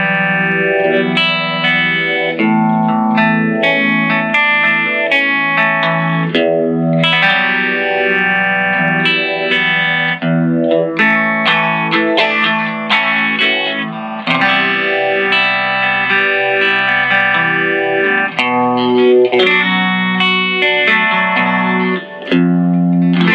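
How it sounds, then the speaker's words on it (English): A guitar played through a phaser effect gives a swirly, dreamy, ethereal tone: sustained chords and picked notes sweep and shimmer with reverb for over twenty seconds, loud and continuous. "Oh, but I use the phaser to reproduce that because it's kind of close."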